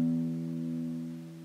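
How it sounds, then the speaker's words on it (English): A guitar's low E string, plucked alone, rings out with a steady tone slowly fading over a second and a half. "So that's the bottom E string"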